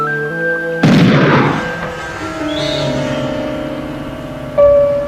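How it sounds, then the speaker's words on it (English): A single loud gunshot rings out to knock twigs from the top of a redwood tree, a sharp booming crack with a long fading echo, followed moments later by a second, softer report. "Twigs from the top of the tree are shot down and carefully gathered"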